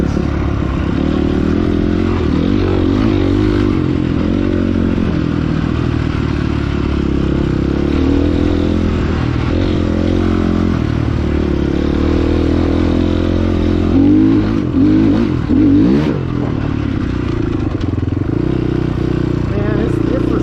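An FSE300R dirt bike rides over tree roots on a trail, its engine droning steadily and loudly throughout with rattling and clattering from the suspension and chassis, the throttle surging near the end.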